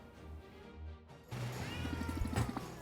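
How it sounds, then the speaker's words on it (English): Cartoonish cats meow several times in the Potionomics video game, with a short caterwauling cry standing out over a steady backing of game music. "Cats!"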